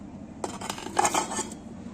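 Cubed potato and pumpkin tumble into a pressure cooker with a short burst of clattering metallic knocks and scrapes, close and fairly loud, lasting about a second.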